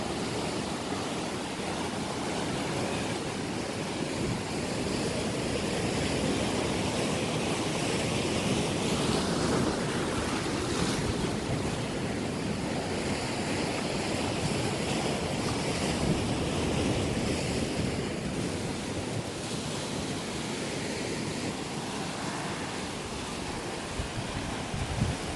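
Ocean waves wash steadily onto a rocky beach at Punta Sur on Isla Mujeres, Mexico, a continuous loud roar of surf with wind buffeting the microphone throughout.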